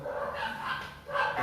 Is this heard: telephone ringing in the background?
no